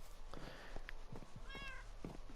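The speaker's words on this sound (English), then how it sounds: "these are my cats Gigi, Kobe, my dog Kareem, my cat Dirk, and that cat over there, Luca" Several house cats, named Gigi, Kobe, Dirk and Luca, meowing in short separate calls at close range, one drawn-out, whiny meow in the middle, over a low steady background hum.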